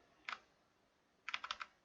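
Computer keyboard arrow keys click softly: a single press, a pause of about a second, then a quick run of about five taps, all faint and close in a quiet room.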